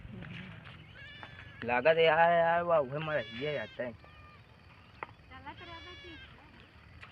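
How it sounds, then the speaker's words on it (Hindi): Goat bleats loudly and repeatedly in a village field, several strained, wavering calls close by, with people talking casually before and after. "बकरी पड़ी है बकरी पड़ी है"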